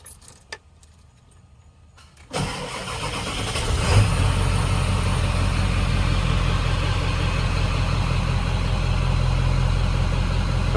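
An OBS Ford truck sits quiet with a few faint clicks, then its engine cranks and catches, settling into a loud, steady idle that runs on without any talking.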